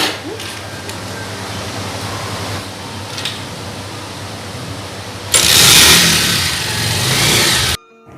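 A car engine runs at the start of a ride, a low steady hum that swells into a loud rushing surge near the end before cutting off abruptly.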